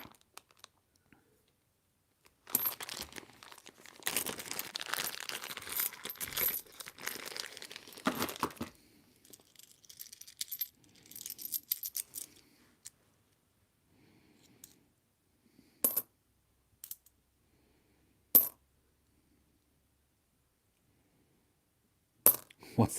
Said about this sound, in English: other coins that are in really nice condition, I'll just put them aside